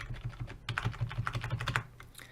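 A computer keyboard's arrow keys are tapped in a quick, fairly even run of close, crisp clicks, about a dozen presses, then stopping.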